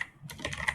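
Rapid keystrokes on a computer keyboard while editing text in Vim, a quick burst of close, crisp clicks with no voice.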